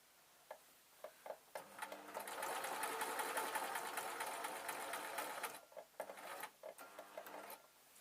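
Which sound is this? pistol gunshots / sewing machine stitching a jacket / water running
sewing machine stitching a jacket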